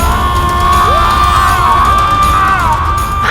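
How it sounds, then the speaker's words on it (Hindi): An anguished, drawn-out scream from a Ramayana devotional TV drama rings loud and sustained, with wavering tones over a dense roaring, crowd-like backdrop. "ये किसकी पुकार है? पुकार नहीं, चीख है"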